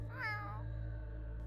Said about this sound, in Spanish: Pensé que era ella hasta que escuché un sonido. Un maullido.